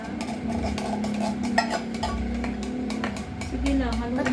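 A spoon stirs a thick, sticky mango graham mixture with condensed milk in a bowl, scraping and clinking steadily and close up while people talk over it.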